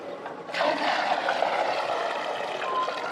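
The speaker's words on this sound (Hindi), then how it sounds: "फिर दोबारा डब्बा वही पानी डालो, इसमें वही पानी डालो" Water poured from a container into a fish pond for catla and rohu fish, a sudden gush that begins about half a second in and then runs as a steady splashing stream.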